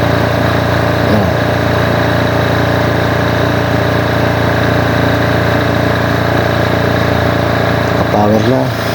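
A 6.5 kVA diesel generator engine runs at a steady, loud, droning idle with a constant mechanical hum close by, unbroken for the whole stretch, with brief faint clicks near the end.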